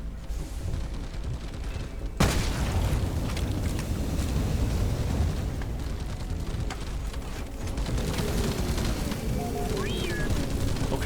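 Sticky bombs detonating in the video game Deep Rock Galactic, a sharp loud blast near the start followed by dense, continuous rumbling explosions and gunfire-like crackle under game noise.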